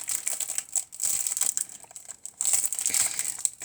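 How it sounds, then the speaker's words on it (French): Plastic wrapping crinkles and crackles as a 20 by 20 craft block is unwrapped, in bursts of close, dry rustling with short pauses between them. "Excusez-moi, j'ai oublié d'en déballer un."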